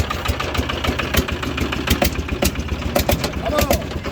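A Catalina vehicle's engine runs steadily after starting, a low rumbling idle with knocking pulses close by, while people talk excitedly over it.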